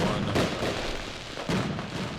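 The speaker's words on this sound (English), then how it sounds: "We found fireworks." Fireworks going off in the Mars colony game Surviving Mars: two loud booming bursts with crackling tails roughly a second apart, dense and close, with no voice over them.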